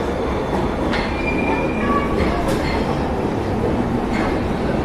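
Subway train rumbles loudly and steadily, wheels squealing in high whines and clattering over the rails, with no talk.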